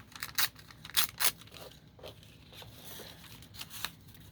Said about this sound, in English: All right, let's tear some right here